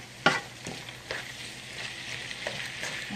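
Ground turkey browning in a pan for chili gives a low, steady sizzle close by, with a few soft scrapes and taps of stirring near the start and no talking.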